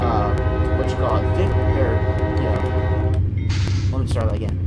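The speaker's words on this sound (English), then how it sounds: "you got to blow the horn at the whistle post until you reach the crossing" A loud, sustained train horn blows at a whistle post ahead of a grade crossing on the High Plains, its steady harmonic blast held for about three seconds over a heavy low rumble before cutting off, with a brief higher tone afterward.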